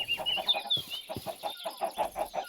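Chickens in a Minecraft cooked-chicken farm cluck in quick repeated bursts, close and clear, with a higher squawk early on and no talk.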